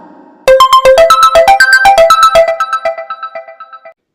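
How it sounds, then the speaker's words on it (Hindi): A mobile phone rings with an incoming call from an unknown number late at night, a loud, bright run of rapid melodic ringtone notes that tapers off over a few seconds. "तभी गोपी के मोबाइल पर किसी अनजान नंबर से कॉल आ जाता है।"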